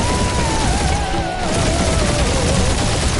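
Spaceship dogfight in the Guardians of the Galaxy video game: dense, continuous laser gunfire and explosions with a whining engine tone sweeping downward, loud and unbroken throughout.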